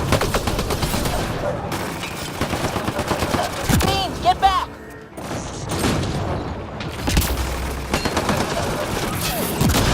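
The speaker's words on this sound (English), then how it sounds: "Turn those turrets on Merryweather's men." Sci-fi combat in Mass Effect: Andromeda with turrets firing on enemy soldiers: dense, continuous bursts of gunfire and booms, mechanical clanks and creaks, and a brief lull in the middle before the barrage resumes.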